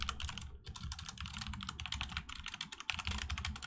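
A computer keyboard clatters in quick, continuous bursts of typing, close and fairly quiet, with brief pauses between runs of keystrokes.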